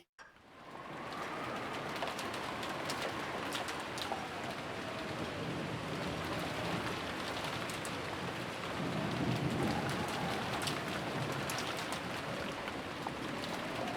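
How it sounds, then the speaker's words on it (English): Steady, heavy typhoon rain pours continuously in the Umineko visual novel, with low thunder rumbling beneath the downpour and swelling louder toward the end. "Yeah, this is a typhoon"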